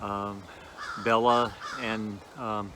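Crows, a visiting pair, caw outside in a few harsh calls while a person speaks over them at close range.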